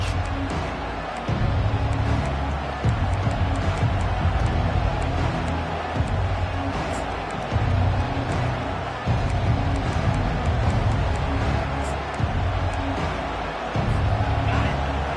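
Stadium crowd at an LSU vs Georgia college football game, a continuous roar that swells in waves and stays loud throughout, with a commentator talking over it.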